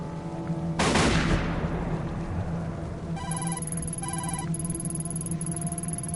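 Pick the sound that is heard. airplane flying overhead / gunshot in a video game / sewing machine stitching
gunshot in a video game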